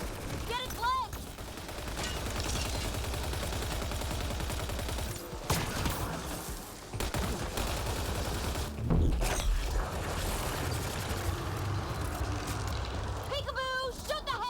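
Sustained gunfire from the Mass Effect Andromeda video game during a side quest on Elaaden, dense continuous bursts of shots with impacts and game effects over about fifteen seconds, with voices talking over the action.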